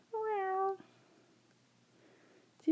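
A single cat meows once, clear and close with a drawn-out tonal call, followed by quiet room tone and a short second sound at the very end.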